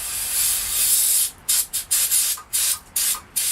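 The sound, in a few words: spraying carburetor cleaner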